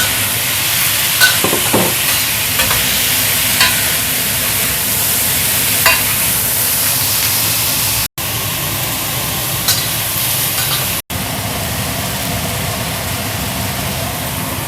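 Food fries in a pan in a home kitchen, a loud, steady sizzle with stirring scrapes that runs throughout, broken by two very brief dropouts.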